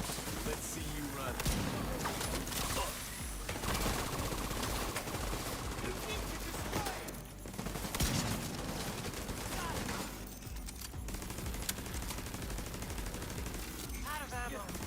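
Sustained automatic gunfire from The Division 2 video game, dense rapid bursts and volleys rattling almost continuously at high level, with voices talking over the shooting.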